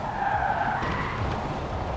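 Car drifting in the Forza racing game, a loud sustained tire squeal and skid over engine roar, the squeal steady and strong at first, then shifting in pitch and carrying on through the rest of the stretch.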